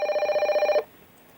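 An electronic telephone bell rings in a rapid warbling burst for an incoming call and stops abruptly, leaving a quiet room.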